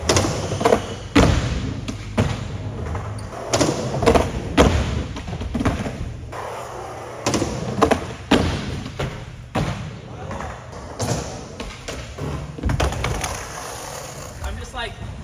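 Skateboard at a skate park nollieing into a ledge: repeated sharp thuds, clacks and rolling scrapes at irregular intervals, fairly close, with people talking in between.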